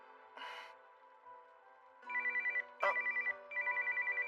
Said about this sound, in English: Oh, the phone!